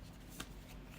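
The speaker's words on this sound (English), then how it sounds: "now we're gonna start picking up your tarot cards" A tarot card is picked up from a deck, a single quick papery swipe, close but faint against a quiet room hum.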